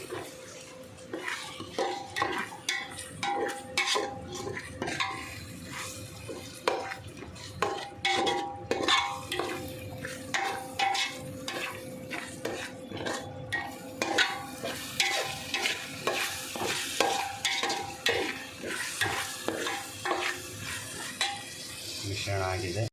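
A spoon stirs masala for palak paneer rice in a pan, rhythmic scraping strokes repeating steadily over a soft sizzle, with light metal clinks.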